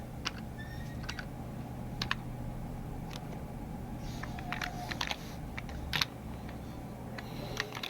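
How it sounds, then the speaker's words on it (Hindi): Quick typing on a computer keyboard, with irregular bursts of sharp clicky keystrokes over a faint steady hum, close and without talk. "यहाँ से टैप करते चले जाते हैं फटाफट"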